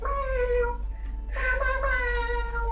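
A person mimics a cat's meow with two drawn-out, wavering vocal mews, the first fading into a short pause before a second, longer one; the imitation is close and fairly loud.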